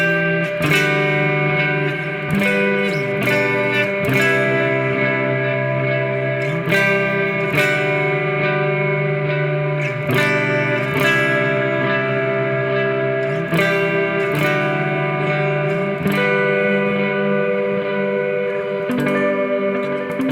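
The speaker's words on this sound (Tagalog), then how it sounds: "Delay lang tsaka yung shimmer reverb lang." An electric guitar rings out with digital delay and shimmer reverb, chords and notes sustaining and echoing into a dense wash of repeats, loud and continuous with no talking.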